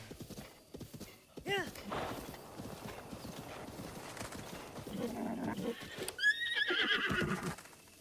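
A horse in the video game Zelda Breath of the Wild whinnies loudly over steady clip-clopping hooves, with a second neigh near the end, heard under ongoing talk.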